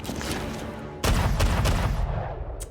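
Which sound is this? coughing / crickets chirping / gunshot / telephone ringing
gunshot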